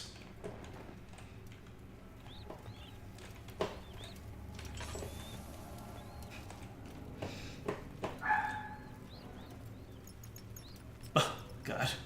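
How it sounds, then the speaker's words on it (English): A neighbor's dog barks a few times from a distance, muffled and faint beneath the ambient sounds of a dark horror game, with short isolated yips scattered through the quiet. "The neighbor's dog just barked, and I thought that was in-game."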